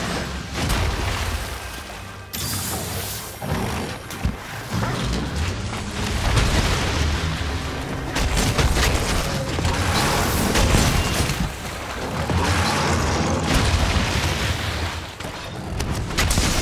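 Goss Harag, a hulking ice-breathing monster in Monster Hunter Rise, slamming the ground in repeated heavy booming impacts, loud and close, over dense rumbling combat noise.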